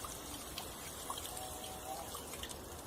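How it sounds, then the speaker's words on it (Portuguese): Simulated rain watered onto two soil models in an ecology demonstration, heard as a soft, steady trickle and patter of dripping water, faint and continuous with occasional brighter drips. "vai começar a chover"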